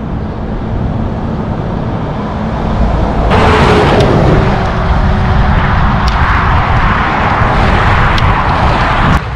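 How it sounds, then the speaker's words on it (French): Cars rushing past on a motorway beside a walking trail near León, a constant roar of traffic that swells louder midway, steady and continuous. "Là il y a une autoroute à gauche. Alors je sais pas si vous voyez les voitures qui passent, vous les entendez."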